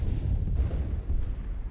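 Sustained rumbling barrage of explosions as a planetary colony is bombarded in the space strategy game Master of Orion: Conquer the Stars, dense low booms rolling continuously without pause.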